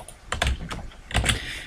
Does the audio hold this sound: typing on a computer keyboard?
yes